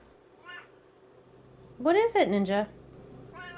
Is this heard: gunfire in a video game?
no